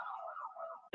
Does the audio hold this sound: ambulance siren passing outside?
yes